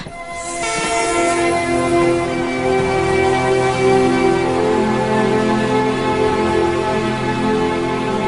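A train departing a station sounds a loud, sustained horn blast over the steady heavy rumble and clatter of rolling rail cars, close by and continuous for several seconds.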